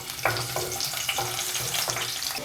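Cinnamon, cardamom and chopped green chilies sizzle and crackle in hot oil in a pan for an egg masala gravy, a steady close frying hiss broken by a few stirring scrapes.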